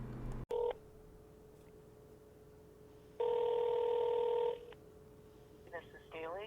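Touch-tone phone keys beep as a call is dialed: a short tone, a long sustained dual tone, then a rapid string of keypad beeps, all with a faint steady hum underneath.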